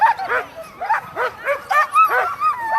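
Sled dogs at the Eagle River Classic sprint mushing race in Chugiak, 6-dog class, yip and bark in rapid excited bursts close by, a string of high yelps and whimpers repeating about every half second.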